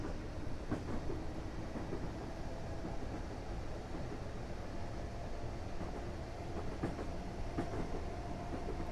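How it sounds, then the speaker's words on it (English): A train runs in Train Simulator 2018 on the Isle of Wight Extension, with a continuous low rolling rumble and faint, scattered rail clicks. The sound is steady and moderately quiet, with no talking. "we can open the taps up and see what this train can do"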